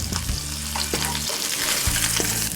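A tacodilla with chorizo and melting cheese frying in a small pan gives a constant crackling sizzle, with occasional low scrapes and bumps from stirring or handling.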